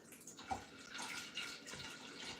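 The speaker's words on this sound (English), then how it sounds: "we're going to pour some more water in here" Water poured steadily into a mason jar with a drilled-hole lid while making homemade butter, a soft continuous splashing trickle, close and fairly quiet with no talking.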